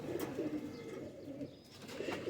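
Pigeons cooing in a steady, repeated low murmur of soft calls close by, with no voices.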